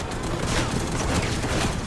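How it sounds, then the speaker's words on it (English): Gunfire from several players shooting at once in the video game Robocraft Infinity: a dense, continuous barrage of loud blasts and booms with no gaps, sustained for the whole stretch. "there were 3 people shooting at me all at once"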